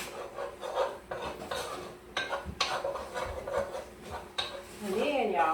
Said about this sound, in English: we want to stir it until it browns